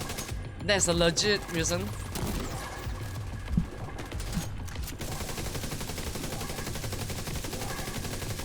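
Rapid automatic gunfire from The Division 2 rattles on for several seconds, mixed with a sharp impact, starting under a burst of talk and continuing steadily after.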